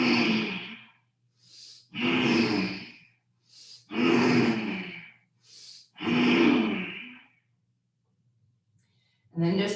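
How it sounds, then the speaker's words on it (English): Slow, deep breaths in a breathing exercise: long, loud, airy inhales and exhales in an even rhythm, each breath a few seconds long with short pauses between, close to the listener. "So inhale and exhale."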